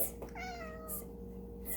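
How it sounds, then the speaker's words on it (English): A black cat held on a lap lets out one clear meow that rises and falls, close by over a faint steady background hum. "I happen to have my black cat on my lap right now"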